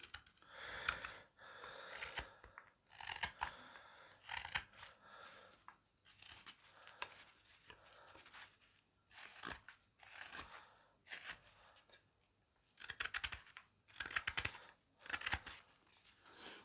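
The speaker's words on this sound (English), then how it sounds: "this is the best bit of carving a spoon" A knife carves a wooden spoon in repeated short scraping and shaving strokes that come in irregular clusters and pauses. The cuts are close and quiet, and no one speaks.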